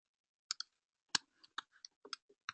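Scattered keystrokes on a computer keyboard, quiet and close, tapping in irregular short bursts with gaps between them.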